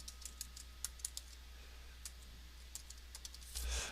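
Computer keyboard keys are pressed in quick scattered clicks, then a few more after a pause, crisp and close but quiet over a steady low electrical hum, with a brief rustle at the end.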